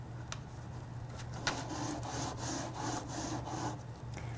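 Paper scrapes and rubs as it is pushed around beneath the head of a Silhouette Alta 3D printer during calibration. The dry, rhythmic back-and-forth strokes are close and fairly steady, with a sharper scuff now and then.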